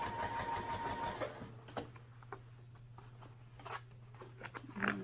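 A sewing machine stitches a fabric sling, its motor humming briefly before a low steady drone with scattered ticks and clicks of the fabric being moved and adjusted.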